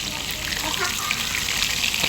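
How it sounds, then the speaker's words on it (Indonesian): Fish that was first boiled with tamarind fries in hot oil, a steady, dense sizzle and crackle close up that continues without a break. "ini saya goreng dulu ikan yang sudah direbus dengan asam jawa"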